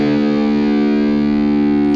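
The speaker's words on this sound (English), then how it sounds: "So drop D tuning, which means taking your low E string and dropping it a whole step." A distorted electric guitar tuned to drop D rings its low string in one steady, sustained note, loud and thick with overdrive and no talking over it.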